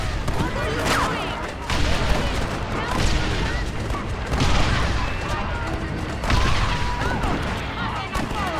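Gunfire in Red Dead Redemption: loud, sharp shots crack out in irregular bursts amid echoing battle noise, with voices shouting over the exchange.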